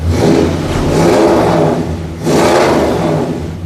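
A 1966 Ford Galaxie V8 with a new, larger upgraded exhaust revs in two long, loud bursts with a short dip between them, giving a deep, throaty rumble up close.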